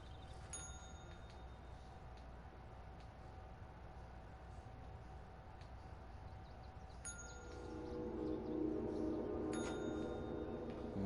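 Bell chimes ring out a few times in the video game Control, bright short dings over a low steady ambient hum that swells toward the end.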